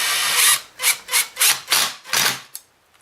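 A power drill drives a bolt into a Kirby vacuum: a long initial whir, then five or six short, loud bursts of the motor in quick succession, each rising and cutting off, ending in a brief click.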